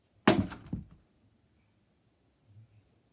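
A baseball bat used as a weapon in a video game strikes once with a sharp, hard thunk and brief crack, then a faint soft knock follows after a short silence.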